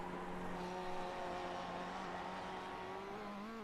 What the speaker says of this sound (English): look how fast that car goes past the water tower there